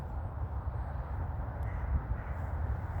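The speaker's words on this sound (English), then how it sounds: "There's a bird flying up there." A crow cawing in a park at dusk, faint and distant over a steady low background rumble, with no talking.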